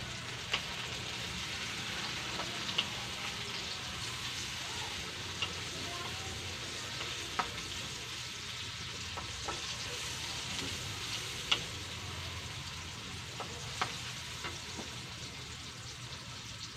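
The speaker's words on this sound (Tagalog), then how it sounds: "Yung pagigisa ko ng spices para mabilis" Spices sautéing in a pan for pakbet, a steady soft sizzle and frying hiss with occasional faint clicks of stirring, no voices.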